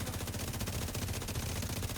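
Video game gunfire rattles in rapid, sustained automatic bursts, loud and dense with no pauses, in a close, continuous stream.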